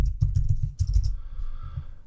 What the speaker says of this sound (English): I type it new